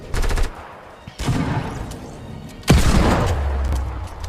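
Desert Eagle pistol shots in Fortnite, three sharp reports at roughly one-second intervals, each followed by a decaying rumble, loud and close, with no talk over them.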